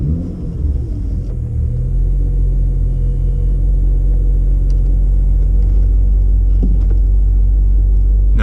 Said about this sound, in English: So guys, we're out on a test drive with the new coils